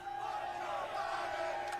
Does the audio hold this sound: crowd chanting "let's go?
yes